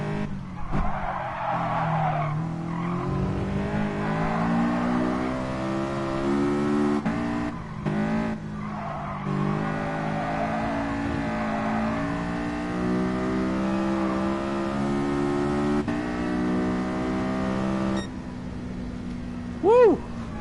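Race car engine in Gran Turismo drones and shifts pitch continuously while tires skid and squeal through corners, loud and steady throughout, with a brief sharp squeal near the end.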